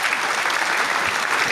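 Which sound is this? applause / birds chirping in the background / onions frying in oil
applause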